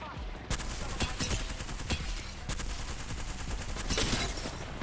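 Gunfire in a video game comes as rapid bursts of sharp cracks, several shots clustered in quick volleys over a busy, noisy game mix, fairly loud and close throughout.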